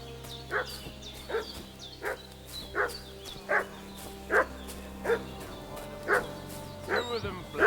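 A dog in a medieval village in Kingdom Come Deliverance II barks over and over at a steady pace, roughly once a second. The barks are moderately close, with a quiet outdoor ambience in the background.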